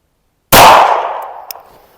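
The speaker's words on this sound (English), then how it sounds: "I'm going to kind of shoot around the camera" A single sharp handgun shot, fitted with a Cylee Ghost red dot sight, cracks loudly and close out of silence, followed by a ringing decay and a faint metallic clink.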